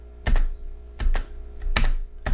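A computer keyboard space bar is pressed in close, sharp thunks, three separate presses with short gaps, then one more at the end, no speech.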